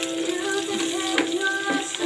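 Onions and garlic sizzle as they are sautéed in a pan, a steady, even hiss of frying with faint stirring scrapes.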